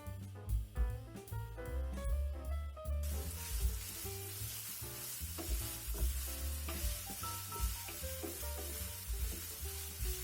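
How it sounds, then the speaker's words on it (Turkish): Minced meat with green peppers, capia peppers and onion sizzling and being stirred in oil in a pan for a Kayseri yağlaması filling, a steady close frying hiss with repeated scraping stir strokes throughout, no talk. "Bu yağla da kıymamızı bir çevireceğiz."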